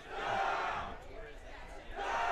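Langley rugby boys chanting a loud pre-game team cheer in unison at a schoolboy match, the shouted chant rising, dipping briefly and surging again.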